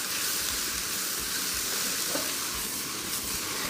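Cabbage and carrot sautéing over high heat in a pan, a loud, steady sizzle and hiss close by with faint stirring, no talking.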